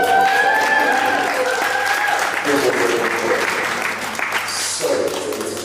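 Live audience at a poetry event in London's Royal Hall breaks into loud applause and cheering, dense clapping filling the room and gradually tapering off over several seconds.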